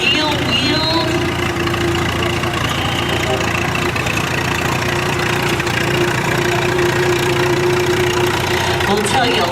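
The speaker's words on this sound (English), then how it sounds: "It is a Farmall, and it is a Farmall regular, a wonderful tractor" A Farmall Regular steel-wheeled tractor engine idles steadily at a parade, a continuous low mechanical rumble with a knocking pulse, close and loud throughout, with faint voices mixed into the background.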